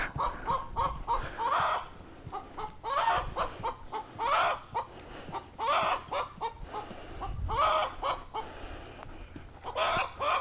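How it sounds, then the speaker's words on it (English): A chicken clucks repeatedly at close range, with bursts of agitated cackling spaced a second or so apart over a quiet outdoor background, and no talking. "You woke the chicken up."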